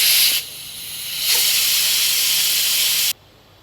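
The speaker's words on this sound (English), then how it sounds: "it's just coming to the end of the steam release now" A pressure cooker vents steam through its release valve while chicken chasseur cooks: a loud, steady, close hiss that dips briefly, surges back, then cuts off sharply near the end.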